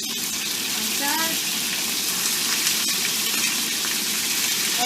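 Chicken souvlaki pieces frying in hot oil in a pan, giving a loud, continuous hiss and crackle with a brief clatter near the start.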